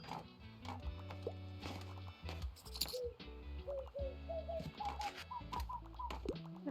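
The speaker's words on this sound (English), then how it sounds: "The birds, they're so cute." Soft cartoon birds coo and chirp in the cozy video game Tiny Bookshop, short rising calls repeating over gentle background music.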